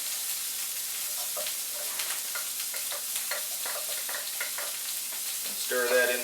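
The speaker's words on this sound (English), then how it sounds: "we're going to add a tablespoon of butter" A tablespoon of butter melts and sizzles in a pan of reduced berry sauce as it is stirred, a steady crackling fry with scraping spoon strokes, close and continuous, ending in a brief louder clatter.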